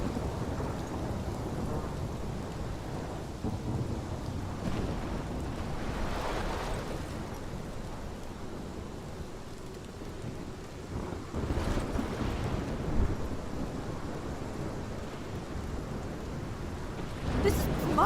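Steady heavy rain with rolling thunder in the Life is Strange video game storm, a continuous dense downpour with louder rumbling swells near the middle and end, no talk.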